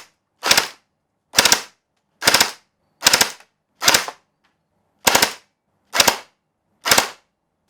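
A toy gel blaster fires eight loud, sharp single shots at a steady pace about two-thirds of a second apart, with one slightly longer gap midway and silence between each crack.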